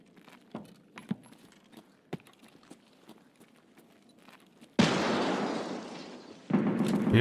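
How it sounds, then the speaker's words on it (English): A grenade goes off in a first-person video game, a sudden loud blast that lingers as a roaring rumble, followed a moment later by a second burst, after quieter scattered clicks and footsteps. "Yep, I was right, I heard a grenade."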